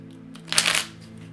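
Tarot cards being shuffled by hand: a short, bright riffling burst of papery flutter that swells and fades within half a second, close to the microphone over a low steady hum.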